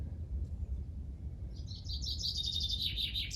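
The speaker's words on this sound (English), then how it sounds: "Oh, is that a bird of prey?" Bird of prey calling in a series of high, repeated chirping notes from mid-distance outdoors, over steady low rumbling background noise, with no talking.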